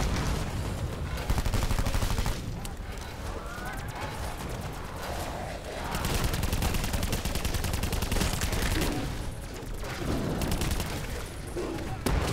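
Video-game gunfire crackles in dense bursts through a busy, loud battle mix, with rapid overlapping shots and a brief lull around the middle before firing picks up again.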